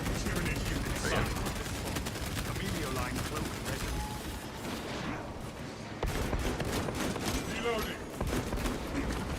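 Enemy gunfire in a cooperative shooter video game, rapid bursts of shots and mechanical clatter running almost continuously and fairly loud, with players talking over it.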